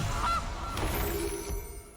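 A goose honk plays as a card-game sound effect in MTG Arena, a brief nasal call over a busy bed of game audio, moderately loud with no talk.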